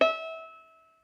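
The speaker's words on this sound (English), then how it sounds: "So I'm just going to pluck the E string now." A single pluck of the E string on a sonometer rings with a sharp attack, then a clear metallic tone that fades over about a second, heard alone and close.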